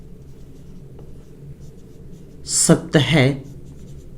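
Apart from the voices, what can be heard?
writing by hand during a maths lesson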